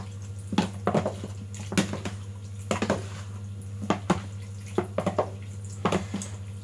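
Hot potato salad is mixed in a bowl, giving soft wet squelching strokes and small clinks in a loose repeating rhythm over a steady low hum, close by with no speech.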